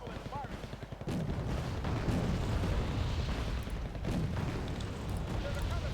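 Missile launches and explosions in Wargame Red Dragon, a loud sustained booming rumble with gunfire-like cracks, opening with a few rapid pulses before the heavy blast takes over.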